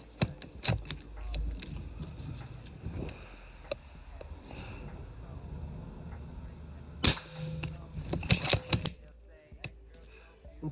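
A Snowpeak M25 7.62 airsoft rifle fires a series of sharp, close cracks, spaced irregularly among handling clatter and mechanical clicks, with a short loud burst near the end.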